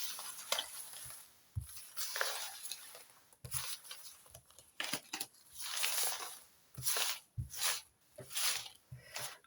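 A deck of cards being shuffled by hand, close-up, in uneven bursts of soft riffling, sliding and patting that stop and start repeatedly, with no voices.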